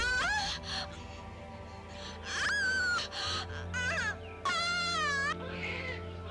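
A newborn baby cries in a series of rising and falling wails with breaks between them. The cries sit over a steady low background drone.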